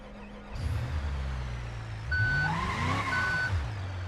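A repo rollback tow truck reverses in BeamNG.drive, its steady beeping backup alarm sounding over a loud, droning diesel engine that rises in pitch, with an air-brake hiss near the start.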